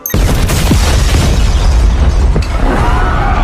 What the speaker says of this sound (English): the guy from The Boys has set off a bomb